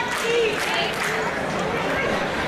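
Crowd noise fills a packed gym at a basketball tournament game in Vienna, a steady broadband roar of chatter and cheering that holds evenly throughout with no clear single voices standing out.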